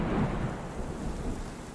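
A steady wash of heavy rain with a low rolling rumble of thunder beneath it, continuous and fairly soft, with no voices.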